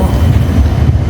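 A tram rolls past on a hot Seville street, a close, loud, steady low rumble of wheels and motor with no break.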